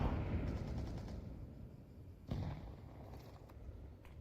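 A grenade explodes in the video game Counter-Strike, a sharp blast with a short rumbling tail standing out over a low, busy background of game noise and scattered pops.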